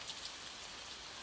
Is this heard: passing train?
no